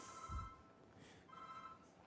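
A phone ringing in a lecture hall during a lecture on Monte Carlo simulations, two faint electronic ring bursts with a pause between them, distant and quiet in the room.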